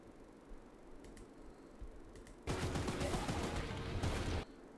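Rapid gunfire rattles into Charles in Choo Choo Charles, a dense two-second burst of shots that starts abruptly after faint ticks and cuts off just as sharply.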